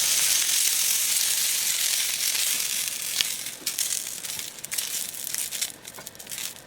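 Shishito peppers blister in a hot frying pan, giving a loud continuous sizzle and hiss with scattered crackles and pops that grow sharper and more broken toward the end; no one speaks.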